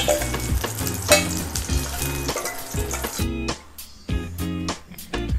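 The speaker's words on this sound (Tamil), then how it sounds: "கடுகு, சீரகம், கறிவேப்பிலையை நம்ம எண்ணெயில் போட்டு தாளிச்சுக்கலாம்." Mustard seeds, cumin and curry leaves crackling in hot oil for a tempering, a loud close-up sizzle full of rapid popping spatters that briefly drops away and then bursts back.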